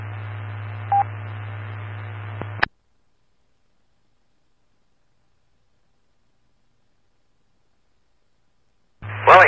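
An amateur radio repeater's tail on a ham net: a steady hiss with a low hum carrier and a brief tone, cut off abruptly into silence, then the carrier returns near the end.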